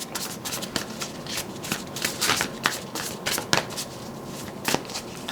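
Tarot cards shuffled by hand for a reading, a run of quick papery riffles and slaps close to the listener, irregular bursts with no speech.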